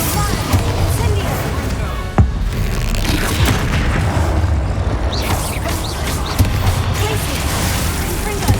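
Fire spells cast in a Hogwarts Legacy combat fight, with booming impacts and crackling bursts over a dense game soundtrack, a sharp hit near the start and steady loud action throughout.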